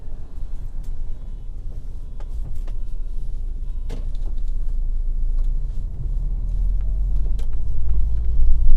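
A car drives through Berlin streets, a steady low engine and road rumble from inside the cabin with occasional clicks and knocks, growing slightly louder toward the end.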